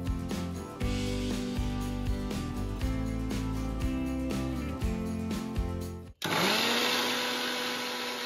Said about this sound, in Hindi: मिक्सी में पीस दोगे तो और अच्छा हो जाएगा आपका